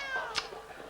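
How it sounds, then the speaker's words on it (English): A cat meows once sharply over a busy background of chasing commotion with Pippin, a short loud yowl rising mid-clip before fading. "It sounds as though Pippin is still chasing that cat."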